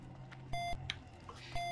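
A sharp electronic beep from World of Warcraft Classic sounds twice about a second apart, each a short bright tone over a low steady game hum, with a faint click between them.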